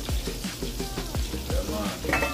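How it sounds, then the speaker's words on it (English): Milk poured into a hot pot for Jamaican-style rice and peas, bubbling and sizzling close by with repeated swishing strokes in a loose rhythm, loud and clear with no speech. "First thing, add the milk to the pot."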